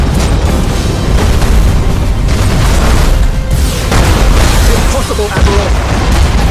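Heavy booming explosions roll through a space battle in Battlefleet Gothic Armada 2 as an enemy defense platform is destroyed, loud dense blasts and crackling bursts layered over a constant rumble.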